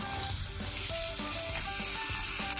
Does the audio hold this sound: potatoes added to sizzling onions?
yes